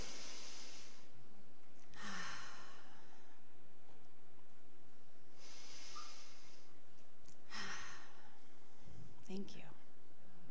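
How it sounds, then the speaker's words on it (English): A group of people breathes together, a few slow audible breaths and sighs in a quiet room, soft, airy and spread out over several seconds. "should we take just a couple of breaths together?"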